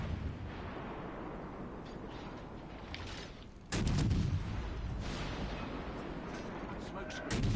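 Battleship main guns open fire in a naval combat video game, a heavy booming artillery blast erupting loud and sudden amid steady engine and sea rumble, with further distant gunfire, and a voice speaking over the din.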